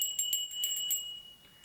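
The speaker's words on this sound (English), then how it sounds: "It's a bronze bell, but with forged iron tongue." Bronze shamanic bell with a forged iron tongue jingles in several quick strikes, leaving thin sustained high tones that fade out gradually.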